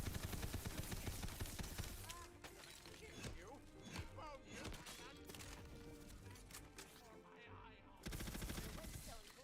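Rapid gunfire in the fantasy shooter Tiny Tina's Wonderlands, bursts of loud automatic shots and impacts that ease off in the middle and return at the end, with a voice talking over parts.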